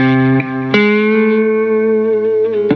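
A distorted electric guitar sustains a note at the 7th fret of the D string, with pitch sliding and bending between a few sharp picked attacks, loud and ringing.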